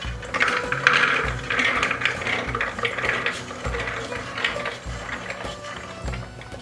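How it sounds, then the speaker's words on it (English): Chickpeas for falafel grind and rattle in a spinning kitchen machine, a busy clattering churn with rhythmic low thumps, continuous and fairly close. "So now we go through the multi-part process of grinding up the chickpeas."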